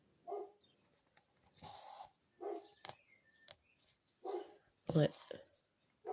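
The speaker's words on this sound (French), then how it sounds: "Le chien du voisin qui s'énerve, je sais pas pourquoi." A neighbor's agitated dog barks in a few sharp, fairly distant bursts spread across several seconds, with a person briefly speaking nearby.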